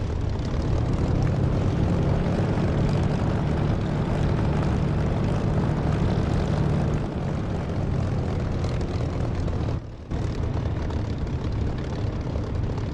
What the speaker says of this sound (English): Cut the engine because they don't want to work on the engine when it's running for some reason.